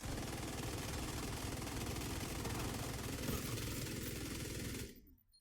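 Sustained light-machine-gun fire in The Division 2, a dense, rapid, unbroken stream of shots down a corridor for about five seconds before it cuts off and fades.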